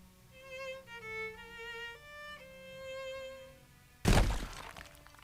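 Glass shatters loudly in a single sudden crash after several seconds of tonal game music, the bright debris ringing out and fading over about a second.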